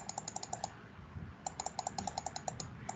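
Quick clusters of light plastic key taps on a calculator keypad as numbers are entered, two bursts of rapid clicks separated by a short pause, close but quiet.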